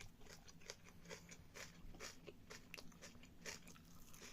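Close crunchy chewing of food during a meal, with rhythmic bites and crunches repeating steadily and no talking.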